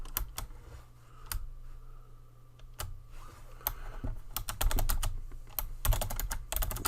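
Typing on a computer keyboard, irregular bursts of crisp key clicks that speed into a dense run toward the end, close and clear with no voices.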